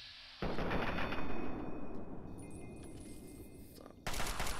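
Gunfire from the video game Fallout 3 comes as sustained bursts of loud rattling shots with a dense, roaring blast that tapers off and then resumes sharply near the end.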